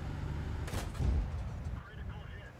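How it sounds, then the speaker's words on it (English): A single booming gunshot from a video game weapon, fired once with a sharp onset and a low rumbling tail over steady background noise, no talking. "let's say I shot him now, he bounced"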